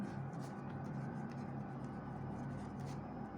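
Pen or chalk strokes make soft, repeated scratches while writing out a Class 9 geometry problem on parallelograms in a maths lesson. The scratching is faint over a steady room hum.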